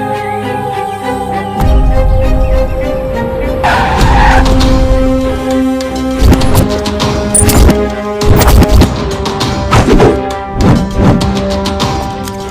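A car brakes hard with loud, drawn-out tire squeals and skidding, close and dominant, followed by further screeching bursts and engine sounds in a dubbed action film scene.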